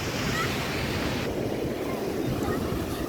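Sea waves break on a Tamil Nadu shore amid gusting wind buffeting the microphone, a loud, continuous wash of surf with rumbling low tones.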